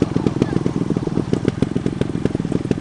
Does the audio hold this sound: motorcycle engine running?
yes